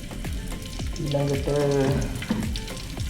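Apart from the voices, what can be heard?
frying ingredients in oil for homemade kothu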